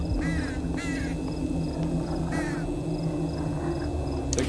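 Crows cawing in the horror game Them and Us: three loud, harsh caws in quick succession near the start, then another a second later, over a steady droning ambient hum.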